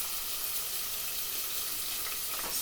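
Boneless chicken frying in a pan gives off a dense, even hiss of sizzling fat, loud and close, with a brief stir or shift of the meat near the end and no voices over it.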